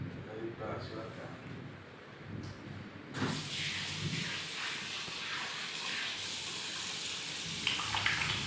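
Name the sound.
hand washing with running water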